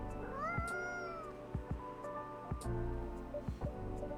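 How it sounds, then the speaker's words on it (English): In the video game Coffee Talk, a cat meows several times in short, rising, tonal cries, quiet and close, over faint low background ambience with soft clicks. "I don't think this is the coffee drinking sort of cat."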